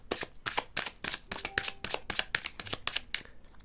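Oracle cards are shuffled and handled close up, a fast series of crisp riffling flutters and soft slaps in a steady rhythm, with a faint tone briefly underneath.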